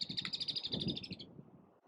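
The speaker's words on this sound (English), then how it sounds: "we've got woodpeckers yelling at each other" Woodpeckers trade rapid, high chirping calls close by outdoors, a steady burst of notes that stops abruptly after a moment, with nothing else heard.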